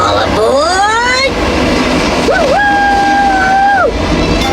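A train ride sound effect plays loud and steady, with a rising whistle followed by a long held whistle tone over continuous rail rumble.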